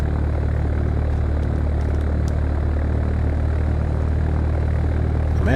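A propeller airplane in the flight simulator game Fly! II roars at full power on the runway at Merrill C. Meigs airport, a loud, constant low engine drone throughout.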